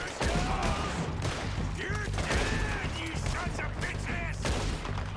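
Rifle fire crackles in Red Dead Redemption 2, with repeated sharp shots and volleys spread through a dense battle mix of mechanical clatter and ringing tones, while voices can be heard within the din.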